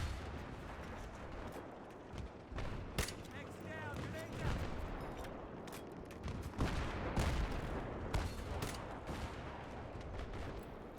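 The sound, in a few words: gunfire from a teammate in a video game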